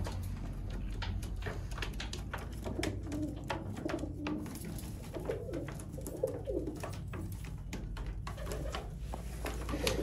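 Sialkoti pigeons coo in soft, repeated low murmurs that run steadily across the whole stretch, close by and moderately loud, with faint wingbeat rustles and a constant low background hum.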